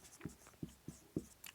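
Chalk or marker strokes on a board during a Class 10 maths lesson, four distinct taps and scratches spaced roughly a third of a second apart, close and faint, with no talk over them.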